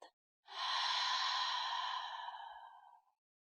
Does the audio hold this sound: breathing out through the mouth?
yes